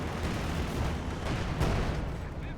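Dense battlefield din from Company of Heroes 2, with heavy gunfire and booming blasts blended into a continuous loud rumble, a machine gun position under fire, no distinct single shots standing out.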